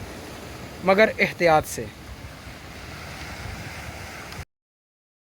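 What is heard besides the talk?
sea waves and wind on the coast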